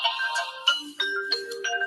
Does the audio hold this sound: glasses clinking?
no